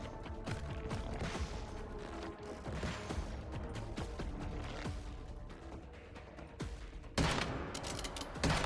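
Gunfire in the video game Once Human fighting void creatures, repeated shots in irregular volleys with crashes and mechanical clanks, a louder burst near the end, no talking.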